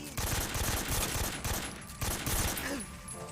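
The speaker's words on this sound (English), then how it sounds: "Wait, don't fucking shoot me with an assault rifle." Assault rifle fire from the Metal Gear Solid 3 video game comes as rapid, evenly spaced bursts of shots that repeat across the moment, mid-level in loudness with a brief pause between volleys.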